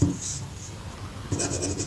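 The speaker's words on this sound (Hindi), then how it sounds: "तो लिखते हैं डिस्टेंस" Chalk or marker scratches on a board during a classroom maths lesson, with short bursts of writing at the start and again near the end and quiet stretches between.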